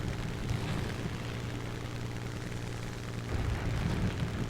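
A Spitfire Vc's piston engine drones with the throttle pulled right back in War Thunder Realistic Battles, a steady low propeller rumble with slight swells near the end.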